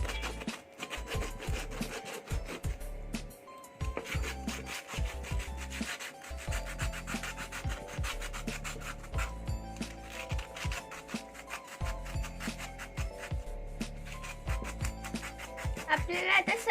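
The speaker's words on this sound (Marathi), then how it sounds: "आपण आता करवंट्यांना पॉलिश करून घेऊया पॉलिश पेपरने" Sandpaper rubs over coconut shells in continuous, close scratchy strokes, a dry rasping scrape that keeps going with brief pauses between passes and soft background music beneath.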